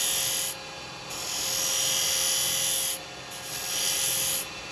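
A detail chisel cuts a spindle-turned wooden snowman on a lathe, giving a steady close rasping hiss in three long passes separated by brief pauses, with the lathe's hum underneath.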